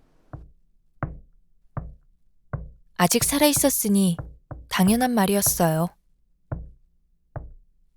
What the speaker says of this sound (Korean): 다시 바깥 세상이 문을 두드렸고